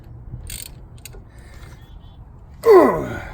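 Brake bolts being tightened on a 2006 Chevrolet Cobalt, with a couple of faint early clicks and then a loud, close ratcheting burst near the end.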